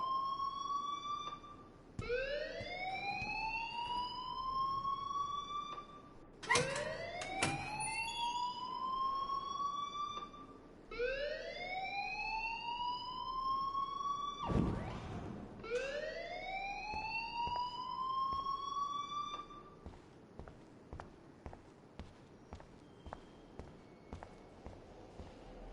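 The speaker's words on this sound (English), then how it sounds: "please turn off that alarm since that's your job" An alarm rings in a video game, a rising electronic siren-like whoop repeated about four times in long sweeps, loud and steady, then breaking into short clicks at the end.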